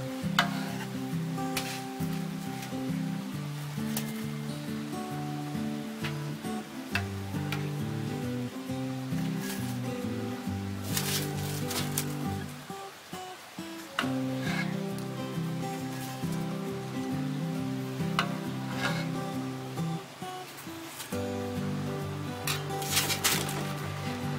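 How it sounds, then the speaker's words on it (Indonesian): Bomboloni doughnuts frying in hot oil give a steady, crackling sizzle that runs throughout, with background music playing over it and no talk. "kita goreng lagi hingga selesai ya"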